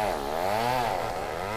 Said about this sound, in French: ils sont impuissants face à la menace des tronçonneuses des compagnies forestières